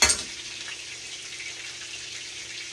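Shredded cabbage sizzling in a small skillet on a stovetop, a steady soft frying hiss after a brief initial clatter, close and even throughout.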